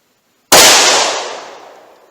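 A single loud, close .357 Magnum revolver shot fired with PMC Gold Starfire ammunition outdoors near a chronograph, a sharp crack followed by a ringing decay of about a second and a half.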